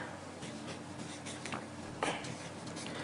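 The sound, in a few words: writing a name on paper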